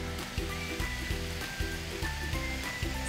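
Vegetables for vegetarian pad thai fry on high heat, a dense, steady sizzle with periodic clanks and stirring knocks in a rhythmic pattern, close and loud.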